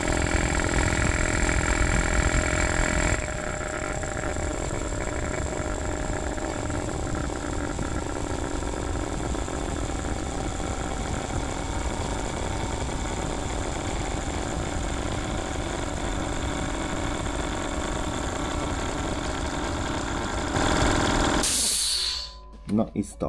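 Air compressor running steadily while it fills its tank to 8 bar, fitted with a larger 120 mm pulley, a loud continuous mechanical drone with a brief louder stretch at the start and an abrupt cut-off near the end.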